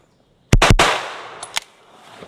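A pistol caliber carbine fires three rapid, loud, close shots with sharp cracks trailing into reverberation, then two quieter distant-sounding pops, with no talk.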